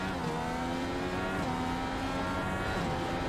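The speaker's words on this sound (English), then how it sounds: "You can see just on the rev limiter, very late braking" An IndyCar race car engine screams on the rev limiter at the Sonoma road course, a sustained, buzzing high-pitched whine at moderate distance, steady for a few seconds with no speech.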